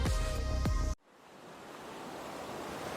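Steady broadband wash of ocean waves rolls in after an abrupt cut from a brief tonal sweep, swelling gradually into a continuous, moderately loud surf roar with no voices.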